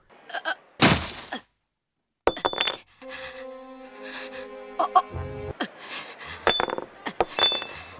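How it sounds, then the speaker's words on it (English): A bright, glass-like clink rings out in a One Piece anime scene, several short chiming hits scattered among gasps, thuds and other effects, with a small tonal musical sting in the middle. "It sounded like glass, but nothing happened, so I was confused."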